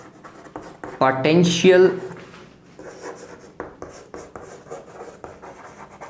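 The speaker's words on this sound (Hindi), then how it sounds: "मैं लिख देता हूं" A marker or chalk scratches across a board in short strokes under a man's explanatory speech about equipotential surfaces, the writing sounds soft and intermittent between his words.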